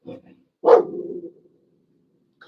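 A dog indoors gives one loud, close bark that trails off into a brief growl, with shorter vocal bursts just before and after it.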